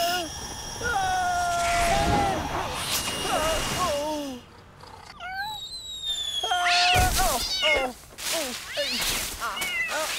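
Cartoon cat meowing repeatedly in rising and falling cries, near and loud, over busy background sound with a brief quiet gap midway.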